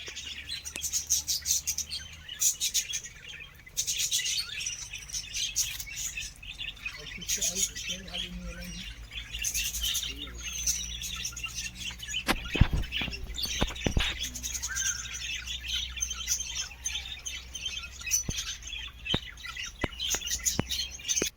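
Silkie chickens chirping and calling in a steady run of small, bright tweets, with occasional louder squawks and sharper clatters mixed in, close by in an outdoor setting.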